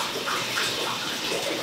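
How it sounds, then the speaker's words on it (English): Water draining and trickling from a photographic wash tray holding platinum prints, a steady close splashing gush with soft bubbling, continuous and unbroken throughout. "Little drippy drains."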